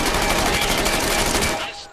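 Rapid weapon fire in Medal of Honor: Above and Beyond, a dense burst of closely repeated loud shots for about a second and a half, stopping abruptly near the end.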